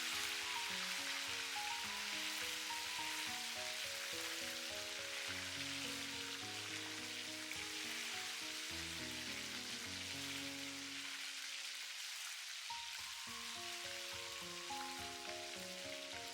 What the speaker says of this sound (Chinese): 等油温升至6-7成热，就可以进行第二次复炸啦